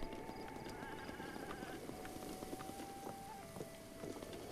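Donkey hooves clip-clop at a walking pace in the video game The Legend of Zelda: Breath of the Wild, a steady rhythm of soft hoof beats under wind and ambient game sound.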